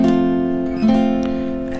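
A guitar chord strummed with the index finger barring the first fret, a single sustained chord that rings close and clear, with a faint second pluck partway through as it decays.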